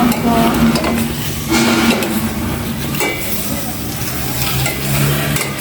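Sautéing aromatics in a pan before vegetables such as string beans go in, a steady sizzle and stirring scrape running loud throughout with some background voices mixed in.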